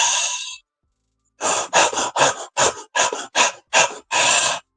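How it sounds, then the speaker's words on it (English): Quick, shallow breaths taken in a steady series of short puffs after a single longer breath and a pause, close and clear with no talking. "Or you can do shallow breathing exercises"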